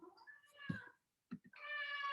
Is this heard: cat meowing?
yes